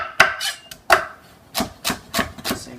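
A knife roughly chops celery on a cutting board, seven sharp close thuds in an uneven rhythm with quiet gaps between, no talking.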